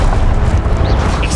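The Incendio fire spell in the Hogwarts Legacy video game gives off a loud, continuous rumbling whoosh with deep booming weight and faint flickering swishes over the top.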